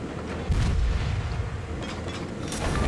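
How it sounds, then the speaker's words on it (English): Destroyer deck guns firing shells at an enemy destroyer in a naval warfare video game, a heavy boom followed by several more distant-sounding shots over a continuous rumbling engine and sea bed, with no talking. "I begin pounding shells into the Minakaze"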